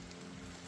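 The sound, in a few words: rain falling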